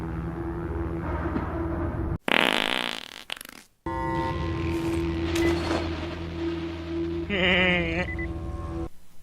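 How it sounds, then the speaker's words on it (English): Comedic fart-themed music plays from a side quest in the video game Dying Light: The Following, with loud, sustained tonal notes and sputtering bursts, cut by a brief break partway through, then resuming and warbling toward the end. "there was one side quest where they had fart music. Like diarrhea fart music"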